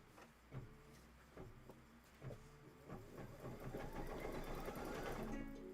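An embroidery sewing machine stitches a placement line, its rapid rhythmic needle pulses starting sparse and quickening into a steady, faint mechanical chatter.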